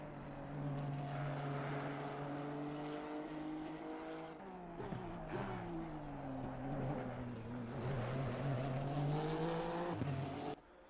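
A sim GT race car in a racing video game at full throttle through the final corner at Circuit of the Americas, a steady loud engine drone climbing through gear changes with a sharp cut at the end.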